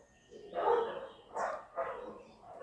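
Several dogs bark at a distance, a few separate muffled barks rising and falling without talk.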